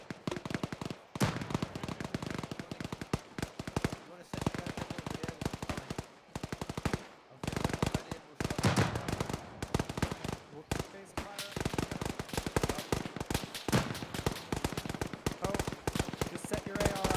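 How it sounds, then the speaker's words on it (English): Bursts of automatic rifle fire in Arma 3, loud rapid volleys repeating in clusters with brief gaps, while players talk over the shooting. "Just set your AR up and start shooting, pal."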